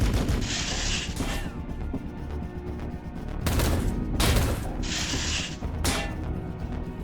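Castigator battle tank guns firing in the Warhammer 40,000: Battlesector video game, heavy mechanical bursts repeating in a rough rhythm with clanking, loud and close, with no talking.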